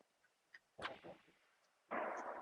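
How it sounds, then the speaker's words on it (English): Distant gunshots ring out near a lake as a few faint, scattered reports, followed by a louder booming blast with a rolling tail. "Somebody shooting fish out there in the lake"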